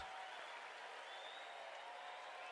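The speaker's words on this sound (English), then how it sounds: "And applause from the crowd" Crowd applause at a Test cricket match between West Indies and Pakistan, greeting Abdullah Shafiq's century, heard as a steady, dense wash of clapping that fills the whole stretch without pause and sits fairly distant.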